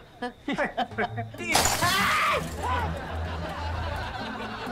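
A clay flower pot is thrown and smashes with a sudden loud crash and scattering shards, following a few short vocal sounds and then fading into background murmur.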